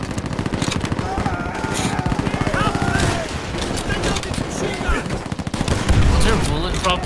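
Rapid automatic gunfire from Call of Duty: World at War rattles steadily for several seconds, loud and close, with voices talking over the shooting.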